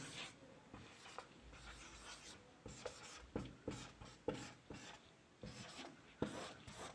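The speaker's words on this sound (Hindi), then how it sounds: "देखो मैं जो वर्ड लिख रहा हूं" A teacher writes a word on a board in a series of short scratchy strokes and taps, fairly close and quiet, with pauses between letters.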